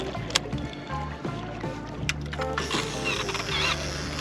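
A fishing reel straining against river current while catfishing: a grinding, rattling mechanical whir in uneven bursts with clicks and knocks, close and moderately loud.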